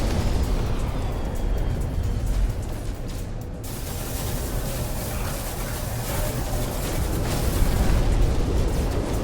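Rockets fired from a ship in No Man's Sky explode in a dense, continuous rumbling roar, loud and sustained with brief dips, and no voices over it.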